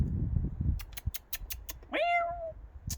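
An allotment cat gives one drawn-out, rising-then-falling meow partway through, close and fairly loud, preceded by soft rustling and scattered small clicks and taps.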